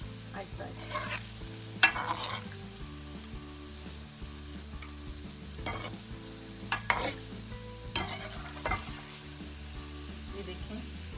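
Gulab jamun frying in hot oil in a pan that is lifted and shaken, a low steady bubbling sizzle broken by several sharp clanks and knocks of the pan, with faint tonal hum and no talking.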